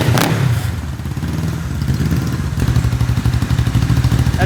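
Honda CB450 motorcycle engine running close by, a steady, loud, rapid mechanical thrum with rattling clatter and a slight rise in revs near the middle, with no talk.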